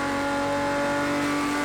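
Race car in Project Cars 2 with a loud, sustained high-pitched engine drone, steady and strongly tonal, heard alone as the car holds its gear.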